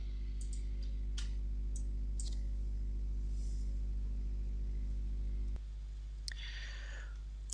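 A few sharp computer mouse clicks in pipe-routing design software, faint and spaced apart over a steady electrical hum, with a brief burst of rustling noise near the end.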